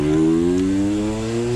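Small two-stroke engine of a restored Mobylette Raphaël Géminiani moped running close and loud, a buzzy steady drone with a slight dip in pitch midway, no voices.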